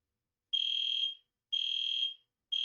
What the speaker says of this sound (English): my dorm is having a fire alarm